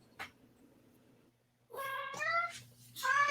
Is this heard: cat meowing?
yes